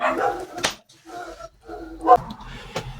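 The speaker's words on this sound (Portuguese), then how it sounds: "se o cachorro latir, me perdoe" A dog gives several sharp barks and yips in short separate bursts, fairly close, with quieter gaps between them and no speech over it.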